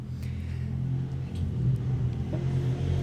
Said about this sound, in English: Is it a car race or something?